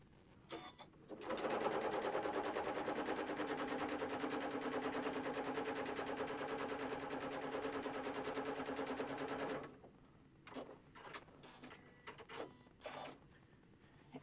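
A sewing machine stitching decorative lines with pearl cotton thread runs in one steady, rapid whirring burst of about eight seconds, then stops for a few short clicks and handling noises, close and quiet.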